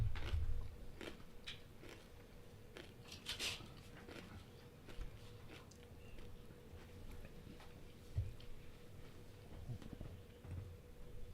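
Close, quiet crunching and chewing from someone eating, with scattered crisp bites and soft crackles spread over a low background.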